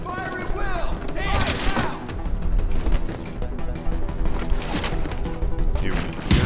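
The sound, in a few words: gunfire from The Division video game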